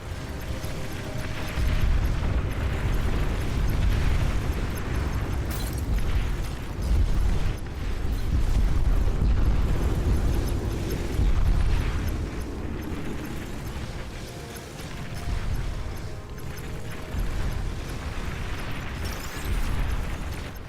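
Commander bomb explosions in the real-time strategy game Supreme Commander roll and boom repeatedly, loud rumbling blasts and crackling bursts that surge and fade in waves over a long stretch, with no speech.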